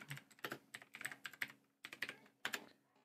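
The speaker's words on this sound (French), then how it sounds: "Donc je tape Yu-Gi-Oh!" Typing on a computer keyboard comes through as quick, irregular clusters of light plastic key clicks, close and quiet, with a short pause partway before the tapping resumes.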